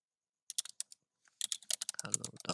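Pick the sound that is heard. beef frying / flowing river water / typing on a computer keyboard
typing on a computer keyboard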